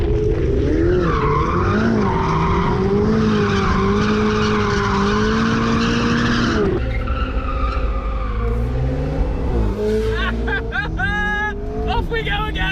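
A sports car drifts sideways on a mountain road at Jebel Jais, its tires squealing in long sustained skids over a loud revving engine, with sharp, choppy squeals near the end.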